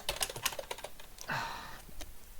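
A burst of quick keystrokes on a computer keyboard during play of King's Quest III: To Heir is Human, with irregular close clicks, a brief pause, then a smeared run of key presses.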